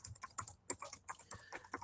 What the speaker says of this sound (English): I'm just typing that in here